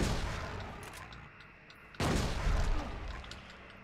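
A shotgun blast in the Silent Hill 2 catacombs, a single sharp boom partway through, rising over dense, murky game ambience and low rumble that continues before and after the shot.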